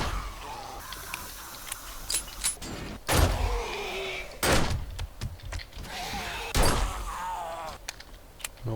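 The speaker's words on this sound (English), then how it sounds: "Always close the door behind you" A door swinging shut in the zombie survival game 7 Days to Die, heard as a few separate thunks and bumps with a short creaky groan between them, moderately loud against a dim background.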